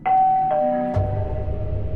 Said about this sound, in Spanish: el sonido del timbre me despertó